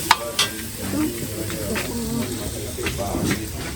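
Brazilian thyme with onions and garlic sizzles in a pan, a steady hiss broken by a few sharp clinks of stirring, with a voice speaking intermittently nearby.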